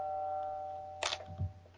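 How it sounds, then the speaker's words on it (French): A mobile phone gives a short electronic notification chime, a single bright tone over a steady low electrical hum, followed by a faint soft thump, with no talk. "C'est mon téléphone."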